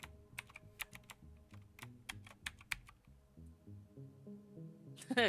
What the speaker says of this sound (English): His fingers skim over the keypad, typing in the code he made sure to memorize from earlier in the day.